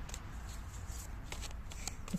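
A deck of oracle cards being shuffled, a soft, steady papery riffling that runs throughout at close range, faint and alone.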